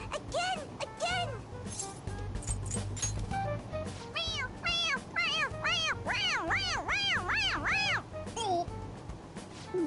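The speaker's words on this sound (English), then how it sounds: "It meows when you press on its head." A toy cat in the Persona 5 Royal video game meows when pressed on its head, giving a rapid series of bright, repeated meows, some layered with voices talking.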